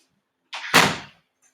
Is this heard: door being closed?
yes